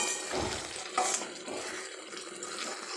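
Poppy seed paste with paneer and coconut sautéing in a pan, a soft, steady sizzle with light stirring scrapes, fairly quiet and without voices.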